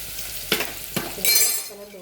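Onions frying in a pan with turmeric powder and salt for a Tamil vegetarian curry, a steady sizzle broken by a few sharp scraping stirs, with a clanging ring near the end.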